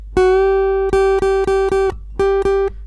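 Electric guitar's second string bent at the seventh fret up a half step to reach the eighth-fret pitch: a steady sustained note struck repeatedly in a quick, even rhythm, several picks in a row, loud and close with no voice.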